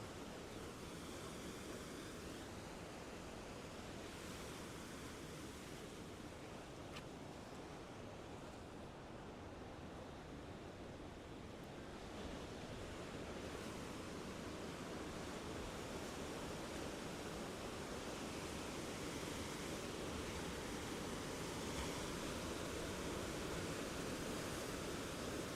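Surf at a Gold Coast beach roars as a continuous, steady wash of breaking ocean waves, heard from a distance under wind buffeting the microphone, with no voices.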